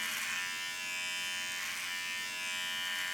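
A Wahl beard trimmer slicing through beard hair, a steady close electric buzz that holds for a few seconds with slight swells as the blades cut.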